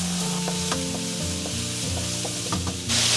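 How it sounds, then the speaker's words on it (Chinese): Minced pork shoulder sizzling and stir-fried in hot oil in a wok, a steady close crackle with repeated spatula scrapes and taps. "我们先把这个肉末放下去，炒至变色"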